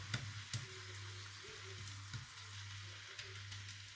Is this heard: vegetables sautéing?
yes